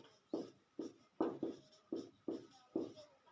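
Marker or chalk strokes on a board during a maths lesson: seven crisp scratching bursts in a steady rhythm, each a short scrape, close and clear with no talking.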